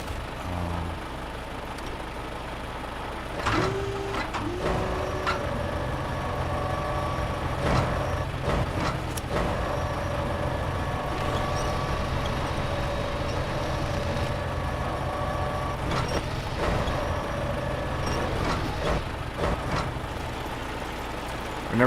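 A heavy truck in SnowRunner's snowy Alaska setting maneuvers to turn around and hitch a trailer: a loud continuous diesel engine rumble with air-brake hisses, clunks and a brief beep, steady throughout with no talk.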